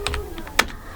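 A few quick keystrokes click on a computer keyboard while someone codes PHP and MySQL, with one sharper key press standing out near the middle, close and isolated.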